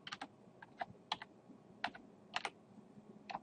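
Fingers type a web address on a computer keyboard, producing quick irregular clusters of crisp key clicks with short pauses between bursts, close and fairly quiet.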